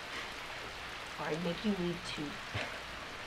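Heavy rain falls steadily throughout a wet outdoor scene in the video game H1Z1, a constant broadband hiss sitting under two people talking.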